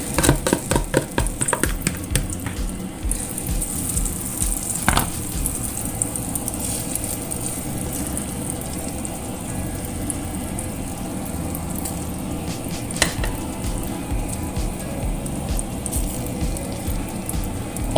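Eggs fry in a white Teflon pan with a steady, crackling sizzle, with a brief cluster of spattering pops at the start and a couple of sharp clicks later.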